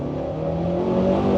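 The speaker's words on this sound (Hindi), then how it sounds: "यार ये तो व्हील स्पिन दे रही है बकायदा" A bulletproof armoured car accelerates hard with wheel spin, its engine drone rising steadily and loud throughout, a continuous revving hum with no voices heard.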